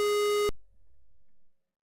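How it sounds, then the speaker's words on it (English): A single steady electronic square-wave tone from an Apple II video game, bright and buzzy with stacked harmonics, holding for half a second before cutting off abruptly into near silence with a faint low rumble. "That's right, Chiptune, the sound effects."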